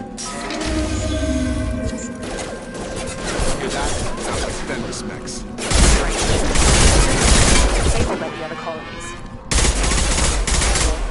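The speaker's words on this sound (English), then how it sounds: "Shoot them before they take out your shield." Heavy gunfire and crashing impacts in the video game Mass Effect 2, loud sustained volleys and bursts of shots, with voices speaking over the combat.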